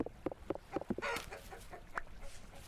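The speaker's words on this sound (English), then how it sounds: "hello, little chicken" A chicken in the video game Vintage Story clucks in a quick run of short, close clucks, followed by a few softer, scattered calls.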